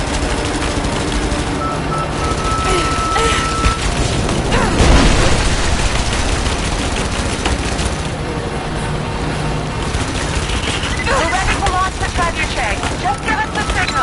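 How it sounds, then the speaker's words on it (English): A trebuchet fires in the video game Rise of the Tomb Raider, one heavy boom bursting out of a dense, continuous wash of battle noise and game score, with voices talking throughout. "signal Sophia to fire that trebuchet."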